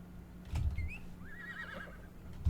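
A horse in Wild West Online gives a single faint, wavering whinny that rises and trembles for about a second, framed by a couple of soft thuds and light ambient hum.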